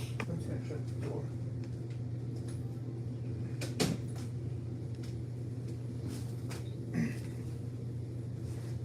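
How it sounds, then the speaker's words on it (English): A door swings shut in a quiet room, landing as one soft, dull thud over a steady low hum, followed a few seconds later by a fainter knock. "I'm just gonna shut the door"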